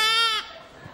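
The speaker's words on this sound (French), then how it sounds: "c'était juste pour vous montrer ces petits moutons" A newborn lamb in a television studio gives one clear, wavering bleat that breaks off abruptly, followed by near quiet with a faint low bump at the end.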